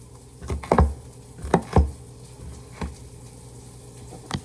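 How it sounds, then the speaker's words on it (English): A knife cuts cooked food into small slices on a board, a handful of soft, irregular chops and thuds spaced apart, quiet and close with a faint background hum. "We like to just cut it up into little slices."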